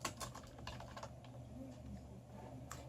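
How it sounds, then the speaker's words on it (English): Fingers tap out a resort name on a computer keyboard in quick, uneven bursts of key clicks, close and clear against a quiet room with no voices. "you're going to type in here your resort name"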